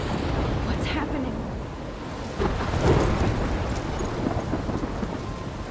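A thunderstorm in the video game Life Is Strange brings steady, loud rain with a deep thunder rumble rolling through the middle, and the downpour continues throughout.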